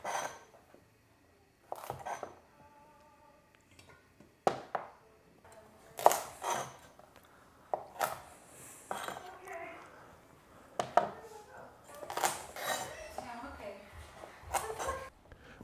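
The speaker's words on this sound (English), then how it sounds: "once you have the roots and the tips of all the carrots chopped off" Knife chopping the root ends and tips off carrots on a cutting board, sharp irregular knocks and clinks scattered throughout, with a person talking over the work.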